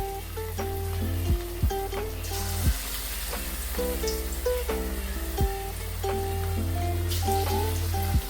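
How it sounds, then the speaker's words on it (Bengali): Small cabbage pakoras deep-frying in oil over a low flame give a steady, close sizzle, with occasional soft pops and stirring clinks rising above the bubbling. "আমি এখানে এই পাকোড়াগুলোকে ছোট ছোট করে তৈরি করে আমি তেলের মধ্যে দিয়ে দেবো"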